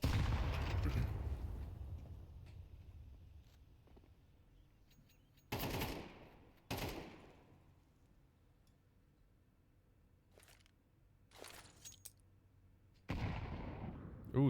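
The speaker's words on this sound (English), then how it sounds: "that nade almost finds Sofer as Sofer's walking away." Grenade blasts in a competitive shooter match, sharp broadband bursts recurring several times with decaying tails, loud against a quieter background.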